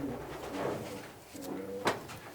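A racing pigeon gives a low, soft coo at close range inside a loft, the gentle burbling notes repeating under a faint background, ending with a brief rustle or clack.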